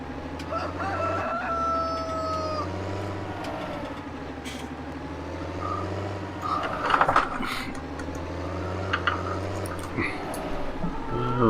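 A rooster crows and chickens cluck on a sheep farm, the calls rising over a steady low vehicle engine drone, with a few sharper bursts of crowing near the middle and end.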